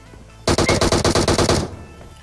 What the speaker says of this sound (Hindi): लेकिन तभी ये बंदा हमारे ऊपर फायर करता है